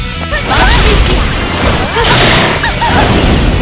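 A smashing hit in Persona 4 Arena Ultimax lands hard: loud crashing whacks and swishes with a bright burst in the middle, over dense fight effects and game music, with short voice shouts in between.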